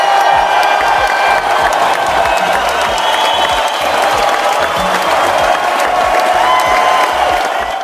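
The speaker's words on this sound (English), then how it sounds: "let's give them all a big round of applause as well for their hard work and contribution" A crowd applauds and cheers for a reunion show cast, loud and continuous throughout, dense clapping mixed with scattered whoops and crowd noise.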